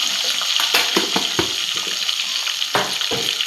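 Malvani masala frying in a pan with spicy sambar spices, a steady close sizzle broken by stirring scrapes and clatter, with no talk.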